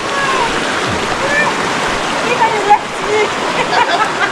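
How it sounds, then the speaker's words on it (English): Free-flowing river water rushing in a steady, loud, close wash of splashing and churning, continuous for the whole stretch, with a voice faintly audible over it. "The river is free flowing, as you can see."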